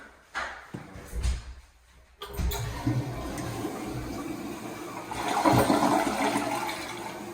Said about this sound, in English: So I use the bathroom and flush the toilet.